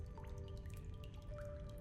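Water dripping from a pipe in the video game Darkside Detective, a scatter of faint, irregular drips over a low steady hum and a thin tonal drone.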